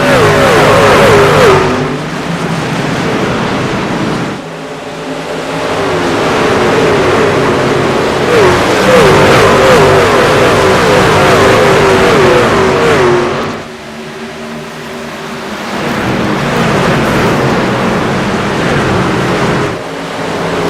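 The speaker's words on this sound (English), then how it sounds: "we're going to hear all the trucks going around this 1 mile track here at Phoenix" Racing trucks lapping the one-mile Phoenix Raceway oval, a loud continuous engine roar that swells and fades as packs pass, with dips near 4.5 and 14 seconds before building again.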